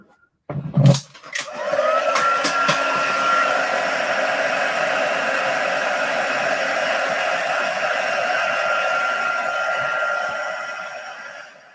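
A handheld hair dryer roars on after a couple of clicks and blows steadily and loudly for about ten seconds, drying freshly painted watercolour pieces on paper, with no talking.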